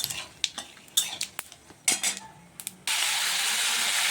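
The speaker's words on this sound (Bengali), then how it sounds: "এখন আমি এখানে যে আদা টমেটো সব ম্যাশ করে নিয়েছিলাম ওগুলি সব দিয়ে দিচ্ছি তেলের মধ্যে।" Mashed ginger and tomato are tipped into hot oil in a pan: a few sharp clinks of utensil against the pan, then a steady, close, loud sizzle of frying that continues to the end.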